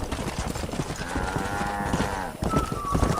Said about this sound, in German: Boah, da sind ein paar Rinder.